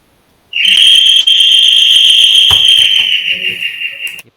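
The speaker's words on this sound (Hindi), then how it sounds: "ये पुराने ज़माने की सीटी किसकी बज रही है अभी तक?" An old-fashioned whistle sounds loud and shrill, one sustained piercing tone lasting nearly four seconds before stopping abruptly.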